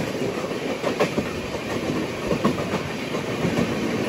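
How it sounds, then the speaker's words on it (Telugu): A WAP-7 electric locomotive train passes slowly nearby, with a continuous loud rumble and rhythmic clickety-clack of wheels over rail joints. "ఏదో బండి వస్తుంది. ఏం బండి అంటారు? వ్యాప్ 7 లోకోమోటివ్."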